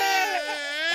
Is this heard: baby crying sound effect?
yes